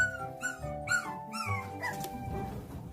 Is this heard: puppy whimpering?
yes